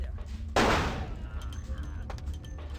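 A single heavy gunshot booms in Vampire: The Masquerade - Bloodlines, a sharp loud blast with a decaying tail, followed by fainter game noise and light clicks.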